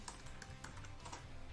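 Keys on a computer keyboard tapped in a quick, uneven run of light clicks, close and fairly quiet, with no voice over them.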